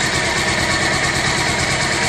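A Bajaj Pulsar 220 motorcycle idles right after an engine oil flush, a loud, close and steady mechanical hum with an even, fast pulse.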